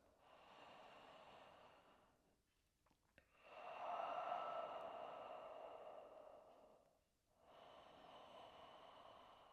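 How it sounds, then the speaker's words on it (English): A close, deliberate deep inhale and exhale during a yoga flow: a long breathy draw of air, then a stronger, louder rush of breath out, followed by another breath, with no talking. "Bring yourself back to this moment, to your practice with a big intentional inhale and exhale"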